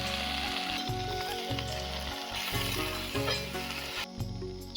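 Shushni greens frying in hot oil with garlic and dried chilli in a kadai: a steady, close hiss of sizzling oil runs under prominent background music.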